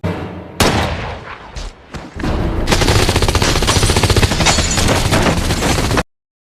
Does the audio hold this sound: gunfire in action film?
yes